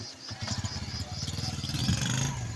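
A motorcycle engine runs steadily nearby with a low, rapid pulsing throb that builds slightly, some clatter mixed in, heard in a village setting.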